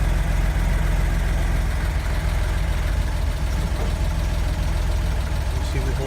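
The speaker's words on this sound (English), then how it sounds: "You see we hold an idle." An old engine idling after a cold start, a loud, close, steady low rumble with an even mechanical throb and faint knocking running unbroken throughout.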